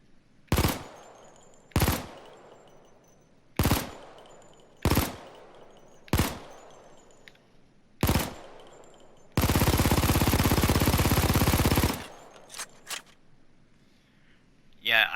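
Mac 10 submachine gun in Payday 2 firing six sharp single shots at uneven intervals, then a loud sustained full-auto burst of roughly two and a half seconds, followed by a few faint trailing clicks.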